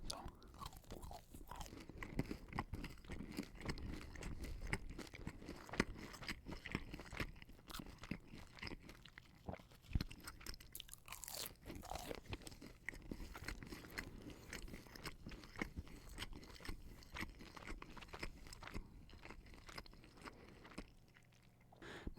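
Burger King Crown chicken nuggets are chewed close to the mic in a quiet room, giving steady soft crunches and moist bites that continue throughout, faint and intimate.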